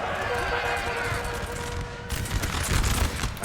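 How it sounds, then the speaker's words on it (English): Massed musket volleys crackle through a chaotic Napoleonic battle in Napoleon Total War, dense overlapping reports rolling on and swelling louder toward the end, with a voice talking over the gunfire. "the Prussians fired all the way back here"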